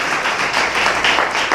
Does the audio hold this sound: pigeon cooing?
no